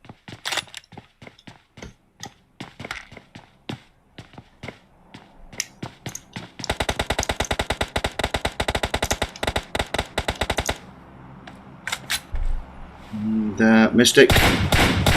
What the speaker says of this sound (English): laying down suppressive fire